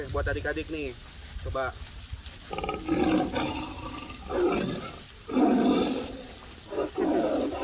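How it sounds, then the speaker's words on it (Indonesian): After a short spoken line, a tiger lets out several rough, rumbling roars and growls. They come in uneven bursts, loud and close, over the last two-thirds of the clip. "Suara harimau."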